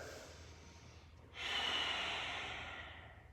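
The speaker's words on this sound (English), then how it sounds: "Continue connecting your breath to your throat so you feel almost like your breath is thicker" A single deep ujjayi breath during a yoga class draws slowly through a constricted throat, a soft, close, hissing rush that swells after a quiet lead-in and then gradually fades.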